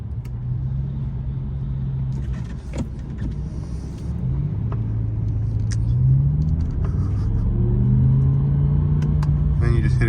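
A BMW M6 with an SMG gearbox, heard from the cabin while driving: a low engine drone climbs steadily in pitch through gears, with rising rumble and a voice talking over it.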